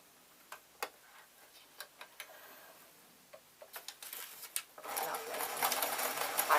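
A sewing machine stitches fabric for an old-fashioned mop hat, beginning with scattered ticking clicks and light handling sounds, then starting up into a louder continuous running hum near the end.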